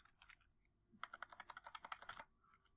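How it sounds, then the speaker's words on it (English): Quick bursts of typing on a computer keyboard: a few scattered keystrokes, then a steady run of about a dozen crisp clicks close by, tapering off at the end, with no voices. "I'm totally good at typing."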